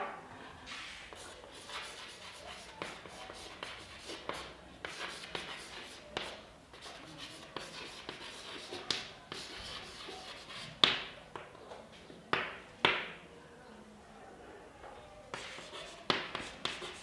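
Pen or pencil writing on paper close by, a quiet, irregular series of scratchy strokes and soft taps with brief pauses, continuing for many seconds without talk.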